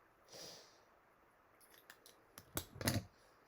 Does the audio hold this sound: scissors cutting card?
yes